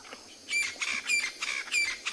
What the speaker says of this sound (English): A lot of birds and other animals calling now as the sun sets.